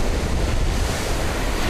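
Rough Atlantic Ocean surf rolling steadily beside a lighthouse house, with gusting wind buffeting the microphone throughout, loud and continuous with no voices.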